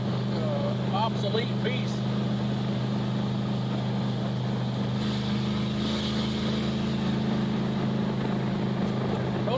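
A 1963 Plymouth Belvedere wagon with Thrush mufflers drives along, its engine holding a steady low drone throughout while people talk over it inside the car.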